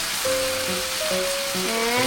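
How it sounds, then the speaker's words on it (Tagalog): Two sardines frying in a hot pan for a bottle gourd dish, a steady broadband sizzle running throughout, with background music tones layered over it. "The fire goes inside of my pan. I put 2 sardines."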